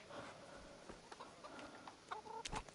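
Chicken clucking in the medieval video game Kingdom Come Deliverance, a few short close clucks and squawks scattered over a faint game background, growing busier near the end.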